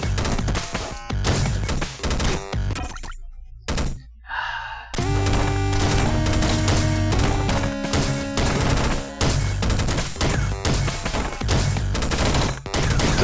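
Rapid, dense gunfire bursts from the video game Downwell crash continuously over layered game music, broken by one brief near-silent gap, with no talk.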